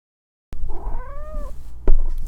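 A cat lets out a single drawn-out meow with a wavering pitch, close by, followed by a brief knock and low background rumble.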